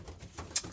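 Pigeons in a loft give soft, low cooing calls, with a brief sharper flutter or chirp near the end, all fairly faint.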